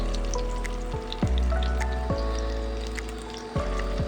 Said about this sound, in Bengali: বাকি বলগুলো এভাবে দিয়ে ভাজতে থাকবো